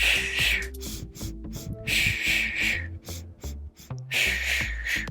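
Forceful rhythmic breaths during a reverse hundred exercise, sharp hissing exhales in repeated bursts between quieter inhales, close and loud over soft background music.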